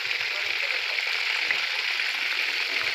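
Tambakol tuna fries in hot oil in a pan, giving a steady, close, crackling sizzle throughout with a few faint low bumps of handling.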